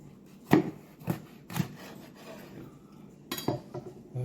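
A knife chops through a Trinidad 7 Pot chilli on a wooden board in a handful of separate, close, crisp strikes with pauses between them, no talk over it.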